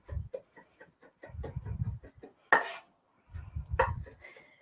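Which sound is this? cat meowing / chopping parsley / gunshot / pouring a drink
chopping parsley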